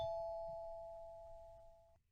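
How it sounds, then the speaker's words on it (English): Doorbell chime from the horror video game Corpse Party: Blood Drive, a single sustained two-tone ring that holds steady for about two seconds and then cuts off, alone over a faint low rumble. "And then the doorbell rang again."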